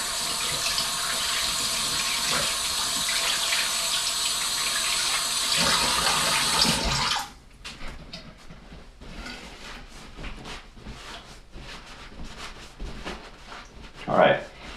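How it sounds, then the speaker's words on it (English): Tap water runs steadily into a sink during a quick hand wash, a loud continuous rush that cuts off about halfway, followed by quieter handling noises and a brief squeak near the end. "Let me wash my hands real quick."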